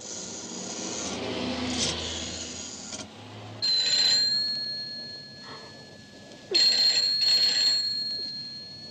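A telephone bell rings in repeated bursts indoors and goes unanswered, its shrill trills separated by pauses over a faint rubbing background.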